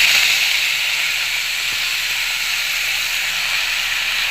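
Leafy greens hit hot oil seasoned with chili and salt in a pan, giving a loud, steady, broad sizzle that holds evenly throughout.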